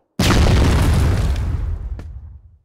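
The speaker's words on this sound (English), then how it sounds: "Fire in the hole!" A grenade explodes in a multiplayer first-person shooter, one loud close boom with a long rumbling decay that fades over about two seconds.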